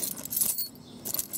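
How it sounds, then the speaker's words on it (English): A handful of old car keys and a clock key jangling as they are sorted at a yard-sale haul, close and bright metallic clinks in two short bursts. "pick out all the car keys, all the old car keys, put them in one lot"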